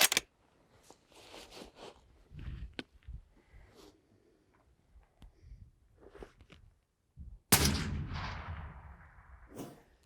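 A single rifle shot fired during trigger practice cracks sharply near the end, with a lingering echo, after a stretch of quiet handling noises and soft shuffling.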